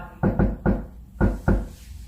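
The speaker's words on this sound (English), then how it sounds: "Wait, there's someone at the door." Someone knocks on a front door in five solid, hollow raps, two quick, one alone, then two more after a pause, close and loud with no talking.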